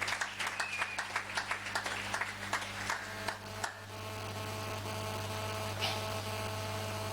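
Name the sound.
congregation applauding to acclaim Yahweh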